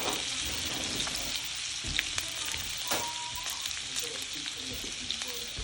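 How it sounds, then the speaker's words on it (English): Butter melting in a hot pan alongside garlic, rosemary and thyme, giving a steady close hiss and sizzle with small crackles throughout, no talk over it. "We're gonna throw in some butter. Let that melt."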